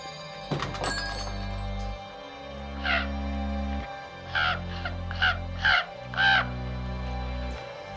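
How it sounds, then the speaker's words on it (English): A raven outside gives a run of harsh caws, one call near the start followed by a cluster of four or five loud croaks in irregular succession, over a low sustained tone and a sharp thunk early on. "That's a nice crow you got out there. It's a raven, my friend."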